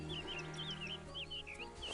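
A duck being picked up in the video game Escape from Monkey Island lets out a run of rapid, warbling squawks and honks that carry steadily through the moment.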